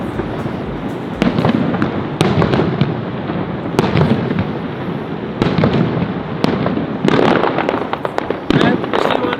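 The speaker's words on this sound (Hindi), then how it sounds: "तो डेली होते हैं ये फायरवर्क्स?" Fireworks over Niagara Falls crackle and boom in irregular bursts, some sharp and close, others rumbling further off, with crowd chatter and talking running underneath throughout.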